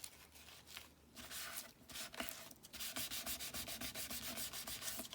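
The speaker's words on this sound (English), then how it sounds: "Let's just mop the glue up" A cloth rubbing and wiping up wet glue on a collage board, brisk back-and-forth scrubbing strokes that speed into a fast even rhythm, close and clear.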